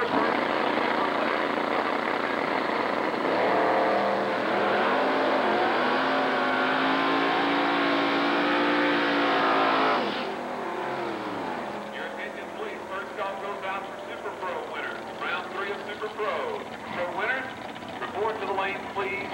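A Ford drag racing car at a 1990 drag race at Texas Motorplex roars loud and close at full throttle for about ten seconds, then cuts to a lower, uneven engine rumble with idling and revving.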